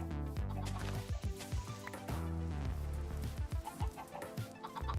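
A crowd of Minecraft chickens keeps up a steady run of clucks and squawks, close and busy, with no talking.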